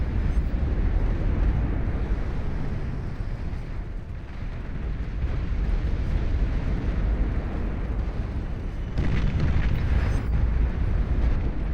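Shoulder-mounted heat ray weapons firing in the strategy game Beyond All Reason during an 8v8 deathmatch, a loud, steady roaring rumble of battle that swells and dips throughout, heavy in the low end.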